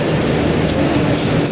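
A crowded Delhi metro train moving, a loud continuous rolling rumble with broadband hiss from inside the carriage, steady with no talk.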